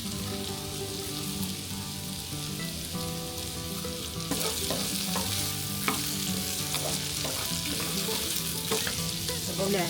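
Meat fries in a hot pan on a clay-built fireplace stove, a steady loud sizzle with clacking stirs and scrapes of a utensil breaking through, growing busier midway.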